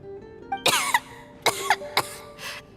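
A character named Tonya in a Genshin Impact cutscene gives a short series of harsh, raspy coughs. There are four or five close bursts with brief gaps between them, and no talking.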